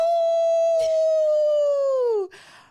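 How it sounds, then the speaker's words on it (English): A single long, loud howl rises and holds steadily before sliding downward and breaking off, close and clear, with a faint sound trailing after it. "Howl!"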